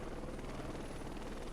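A small helicopter in the video game Heliborne flies, its rotor and engine giving a dense, continuous chopping drone at steady loudness throughout, with no voices.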